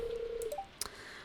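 A phone dial in Stardew Valley sounds a steady held tone, then a few quick rising beeps and a sharp click, clean and close with no talking.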